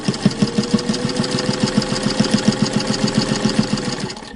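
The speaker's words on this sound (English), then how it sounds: "Now the 1591 is one of the strongest machines that Singer ever made. It has a direct drive motor" Singer 1591 direct-drive sewing machine stitching steadily, its close, loud mechanical hum carrying a fast, even chatter of needle strokes throughout with no talking.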